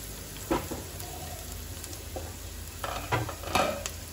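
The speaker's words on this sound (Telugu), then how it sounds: "ఫ్రైడ్ ఆనియన్స్ ఇది ఫ్రైడ్ అయ్యేంత వరకు వీటిని చక్కగా వేయించుకోవాలన్నమాట" Sliced onions fry in hot oil for biryani, cooking toward a deep golden brown with a steady, even sizzle and a few soft stirring scrapes and clinks throughout.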